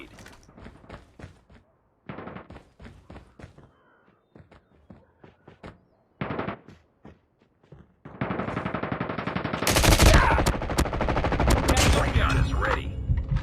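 Automatic sentry gun firing in Call of Duty Mobile, bursts of rapid gunfire that start sparse and choppy, then swell into a loud, dense, continuous stream of shots mixed with other game effects.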